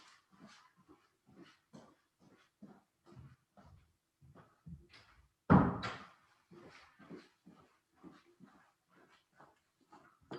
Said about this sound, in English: Sorry, let me close the door again.